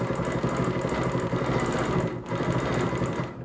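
Sewing machine runs continuously while stitching quilted circles guided by a ruler, a fast, even mechanical whir with a rapid rhythmic needle pulse, close and steady, with one brief dip partway through.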